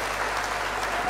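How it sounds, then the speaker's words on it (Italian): A brief burst of loud, dense clapping from a crowd, continuous and even with no pauses. "ti mandano un applauso forte da casa"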